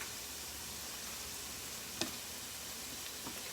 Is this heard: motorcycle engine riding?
no